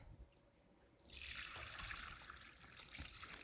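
Pan drippings from a roast turkey are poured from the corner of a pan through a strainer into a bowl, a quiet start giving way to a steady, close liquid trickle that runs for a couple of seconds.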